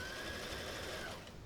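A sewing machine runs steadily with a dense, faint whirring hum that holds for over a second and tapers slightly at the end, with no voices over it.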